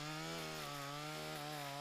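A chainsaw prunes tall street plane trees from an aerial lift, its engine holding a loud, steady droning whine with no break for the whole moment.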